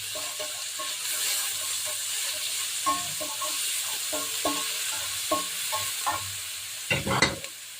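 White onion sizzles steadily in hot olive oil for a mushroom pasta, with soft stirring scrapes throughout and a louder clatter near the end; no one speaks.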